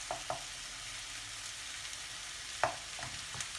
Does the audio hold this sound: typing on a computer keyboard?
no